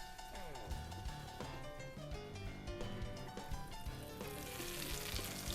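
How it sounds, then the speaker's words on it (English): Eggplant cutlets sizzle loudly in hot oil in a pan, a steady close crackle and spatter running throughout with occasional bumps and clatter, while background music plays underneath. "you just want to fry them on both sides"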